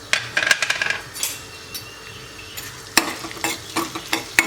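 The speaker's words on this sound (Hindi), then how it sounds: "घी गरम होने के बाद ये हमें गोंद डाल देना है।" Edible gum (gond) frying in hot ghee in a pan, a sizzle with bursts of clattering stirring and spoon scrapes against the pan, close by with no talking.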